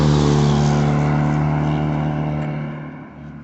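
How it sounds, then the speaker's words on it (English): A car engine rumbles close by, a steady loud drone that slowly fades as the vehicle moves along a road near a trailhead. "so car coming"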